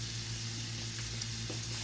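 Bacon pieces frying in a pan give a steady, close, even sizzle with faint crackles and no voices.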